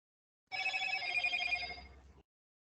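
A mobile phone rings alone in a quiet room during a lighting lecture, a steady electronic ringtone with bright tones that runs close and clear for under two seconds, then cuts off abruptly.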